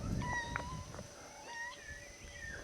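A mother cat meowing several times, soft and somewhat distant, in a quiet outdoor setting with light background noise.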